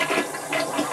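A toilet flushing, a brief rushing gush of water swirling in the bowl, close and fairly loud with no talk.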